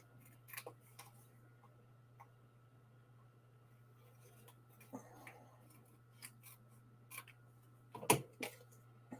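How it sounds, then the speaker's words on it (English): Small snips cut through layers of paper in quiet, crisp clicks and snaps spaced irregularly, with one sharper cut near the end, over a steady low hum. "I can feel when I'm cutting through one layer versus when I'm cutting through two layers"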